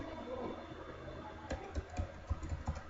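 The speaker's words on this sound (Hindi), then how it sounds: "मैं एंटर प्रेस करूँ" Keys on a computer keyboard are pressed in a run of sharp, close clicks, including the Enter key, over a faint background hum.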